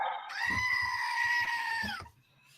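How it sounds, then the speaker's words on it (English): A goat lets out one long, loud, wavering bleat close by, lasting nearly two seconds before cutting off, with scuffling noise underneath. "That freaking goat."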